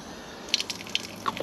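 Water trickles from a cemetery water point into a bottle, with faint splashy drips and small gurgles scattered over a quiet background.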